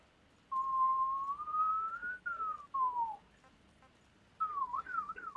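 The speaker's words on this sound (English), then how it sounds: "Jeez, I was having some trouble whistling there." A person whistles a wavering, sliding tune in a few short phrases with brief pauses between them, fairly clear and close, over a faint quiet background while playing Metal Gear Solid V.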